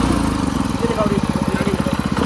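A power tiller engine runs close and loud, its rapid chugging pulses quickening as it revs, with a voice talking over it.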